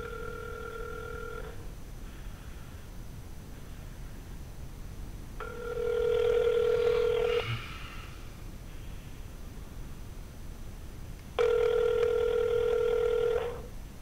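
Ringback tone on an outgoing telephone call, three long electronic ring bursts of about two seconds with pauses of several seconds between them, steady and clear over faint line hiss, with no talking.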